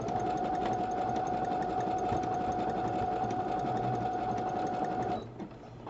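A sewing machine runs steadily, stitching a piece of blue fabric for a boho bag: a loud, continuous whirring hum with a fast mechanical tick that stops abruptly near the end.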